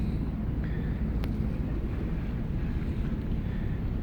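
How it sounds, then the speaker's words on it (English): Steady low rumble of a ferry to Tasmania under way at night, with wind buffeting across an outside deck, continuous and fairly loud with no talking. "The boat is finally moving, a little bit earlier than scheduled"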